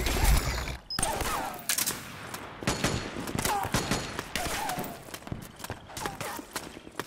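Bursts of automatic gunfire rattle through a chaotic battlefield in Metal Gear Solid 4: Guns of the Patriots, loud and dense, with shouted voices and scattered impacts layered over the shooting.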